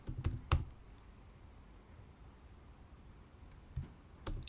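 A few sharp computer keyboard keystrokes while a Python PyAutoGUI script is being written, clustered in brief bursts near the start and end with quiet room tone between, close and fairly faint.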